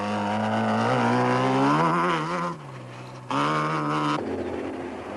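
A Raceco single-seater off-road race car driven by a father and son team in a South African off-road race, its engine revving loud and close with rising and falling pitch, dipping briefly before surging again.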